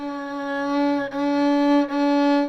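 A violin sustains one bowed C sharp, clear and close, with two brief bow changes breaking the smooth, ringing tone.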